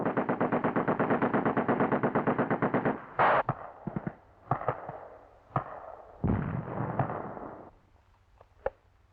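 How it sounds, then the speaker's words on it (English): Sustained rapid machine-gun fire from all weapons dominates at first, then breaks into scattered heavy gunshots and mortar-like blasts with pauses between them, loud and close, with no talk. "The enemy is taken under intensifying fire from all weapons"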